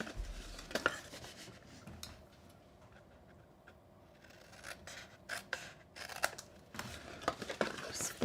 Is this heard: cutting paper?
yes